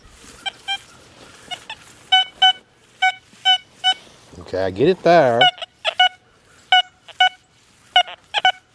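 A Deus 2 metal detector with an HF 2 coil sounds clipped, repeated high beeps over an iron target, evenly spaced short tones interrupted midway by a brief burst of talk.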